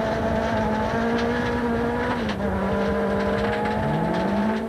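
A 1997 Volkswagen Golf rally car drives a forest stage, its engine howling steadily with pitch shifts between gears, loud and close, with gravel and road noise underneath.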